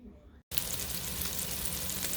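Sausage meatballs browning in a hot pan give a steady, close sizzle and crackle of frying that starts abruptly after a brief silent gap and continues without pause.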